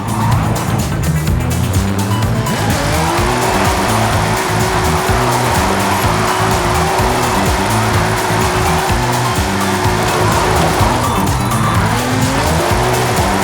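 A Nissan GT-R drifting in Forza Horizon 5 in Mexico, its engine roaring loud and constant with wavering revs while tires squeal continuously through long slides.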